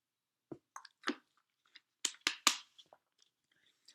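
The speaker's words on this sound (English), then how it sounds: "Sorry to new people, I drink water a lot on the channel." A person drinking water close to the microphone: a few separate wet swallows and gulps, then a quick cluster of louder sips and gulps, with short silences between.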